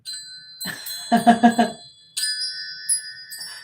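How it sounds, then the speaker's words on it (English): Wind chimes ring out in a bright cascade of overlapping metallic tones, a cluster of stronger strikes in the middle, then lingering shimmering notes that fade and ring again. "let's call in spirit with a little bit of wind chime time"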